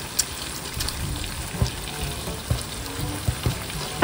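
Shrimp frying in butter and garlic in a pan, a steady close sizzle with occasional pops and the clink of stirring running throughout.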